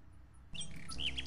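A small bird in King's Quest 6 chirps after a brief quiet start, giving a couple of bright, high tweets over a soft background hum.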